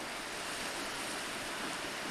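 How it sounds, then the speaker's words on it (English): Ocean waves breaking on moss-covered rocks along the rocky Acadia coast in Maine, heard from a cliff above as a steady, faint hiss of surf mixed with wind, with no clear individual breaks. "See the ocean hitting the rocks down here, the moss-colored rocks."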